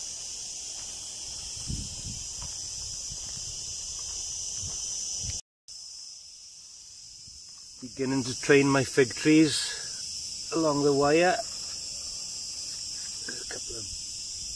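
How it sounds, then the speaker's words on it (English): Garden insects, crickets among them, chirp as a steady high-pitched drone through the whole stretch, interrupted by a brief dropout, while someone talks over them in the latter half. "you can hear all the insects in the background"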